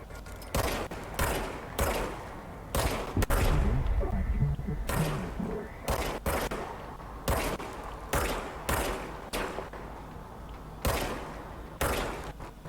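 Repeated bursts of service weapon gunfire from the video game Control crack out in an irregular rhythm, a dozen or so loud sharp shots with brief gaps between them and a low rumble underneath.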